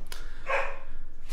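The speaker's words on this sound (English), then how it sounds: "Stan is woofing his face off out there." A collie barking out of view, a single muffled bark or yelp heard faintly at a distance over low background rumble, with no talk during it.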